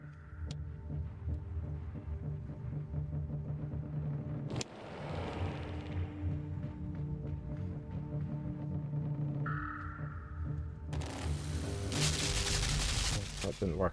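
Gunfire in the video game Limbo: sharp bursts of shots crack out over a low droning background, with a harsh, dense volley near the end.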